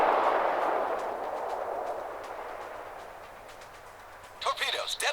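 Battleship North Carolina's main guns firing in World of Warships, a heavy rumbling boom that decays slowly over several seconds, followed by a voice talking at the end.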